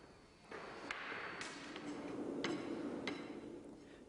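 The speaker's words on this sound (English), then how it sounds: "The last compaction of the sand in the drag is carried out using a flat rammer." A flat rammer compacts foundry sand in a moulding drag, giving a series of sharp, spaced thuds about every half second to second against a low background hum, fairly faint and with no talking.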